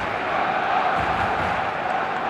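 A packed football stadium in eFootball 2026 roars with a dense, sustained crowd cheer, steady and loud throughout the short stretch.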